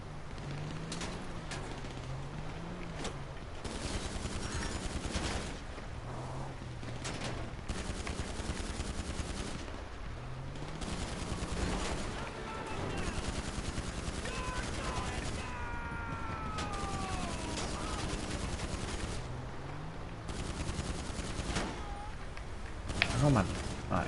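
Gunfire in GTA 5: frequent bursts of automatic and single shots mixed with mechanical clatter, under and between someone talking throughout.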